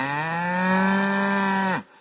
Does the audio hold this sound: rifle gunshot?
no